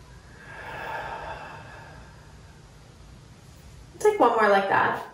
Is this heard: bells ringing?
no